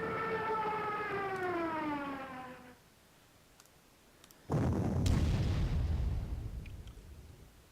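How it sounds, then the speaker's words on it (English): Artillery bombardment in the Panzer Corps war game: a wailing siren rises and falls for a few seconds, then a quiet gap, then a heavy explosive blast rumbles on with scattered bursts before fading. "The bombardment continues."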